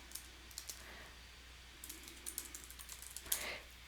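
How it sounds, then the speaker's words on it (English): Sparse, quiet keystrokes on a computer keyboard: scattered single clicks, then a denser run of taps ending in a slightly louder cluster, close and alone over faint room hiss. "You will type in your agency name"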